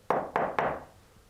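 Three firm knocks on a hard surface in the old Garnett House Hotel, evenly spaced and close, each with a short resonant decay, followed by quiet.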